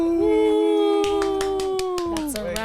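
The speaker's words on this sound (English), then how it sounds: "The clap again." Several sharp hand claps ring out over a sustained howling, dog-like vocal tone, a quick run of close claps spaced unevenly across a couple of seconds.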